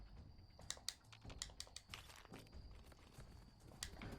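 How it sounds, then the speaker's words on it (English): Footsteps in the video game Fallout 4, a series of irregular soft thuds and clatters at moderate distance mixed with faint game ambience, no voices. "Oh, I hear footsteps."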